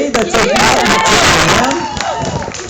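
A crowd at the Melbourne Show cheers loudly and close, shouts and whoops overlapping with a few claps before fading slightly toward the end.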